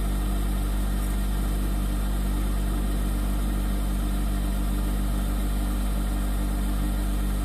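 A household water pump runs continuously with a loud, steady low hum and even mechanical drone, unchanging throughout with no voices.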